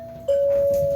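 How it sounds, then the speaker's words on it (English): A single electronic doorbell chime sounds close and steady, a sustained clear tone held for most of a second over faint room noise. "a salesperson just rang my doorbell during my longest movie"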